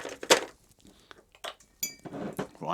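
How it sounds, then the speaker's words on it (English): An ice cube dropping into a glass of gin, giving a sharp glassy clink close up, followed by a few lighter knocks and rattles of ice against glass, with no talking. "Let's just stick an ice cube in there."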